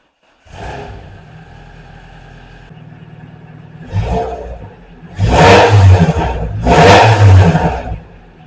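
A Renault Clio 172 engine, just repaired after coolant leaks, idling steadily up close, then revved in three bursts, the last two loud and sustained before it settles back.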